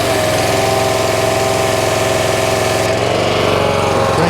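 A CAT pressure washer engine running steadily after a valve replacement on the pump, a loud continuous mechanical drone with an even, smooth hum throughout.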